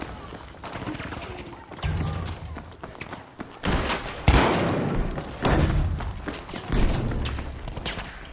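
Battlefield V gunfire near a fun house, with bursts of shots and heavy thuds coming in several loud surges, mixed with game noise and some voice.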